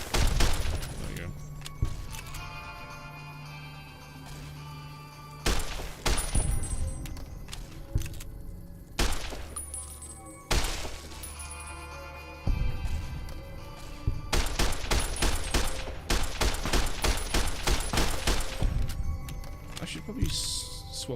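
Gunfire in the Fallout: New Vegas video game comes as repeated sharp shots, some in rapid bursts, spread across the scene with gaps of quieter ambience, while someone talks over the action.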